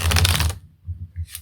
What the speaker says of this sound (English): as I'm working with these cards, they are getting a little more shuffly for me